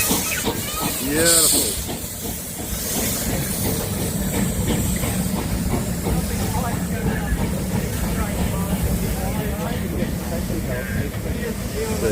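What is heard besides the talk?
Greenmount steam locomotive hissing steam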